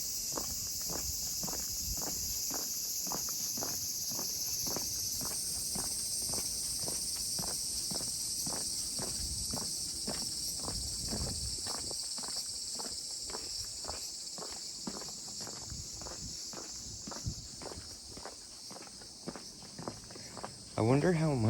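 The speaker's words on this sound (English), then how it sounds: "You can hear all of the bugs." Insects in Kyoto's Gion historical district trill with a steady high-pitched drone throughout, close and even, while rhythmic footsteps tread along beneath and a voice speaks at times.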